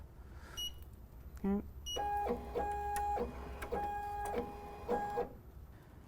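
An EM-1010 embroidery machine with a Fast Frames hoop running its outline scan, making a close mechanical whir with repeated tonal motor beeps and stepping ticks in short bursts; a voice speaks briefly.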